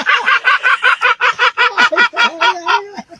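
A gull gives a rapid run of loud, close, harsh squawking calls, about a dozen in quick rhythmic succession, the last few drawn out and falling in pitch.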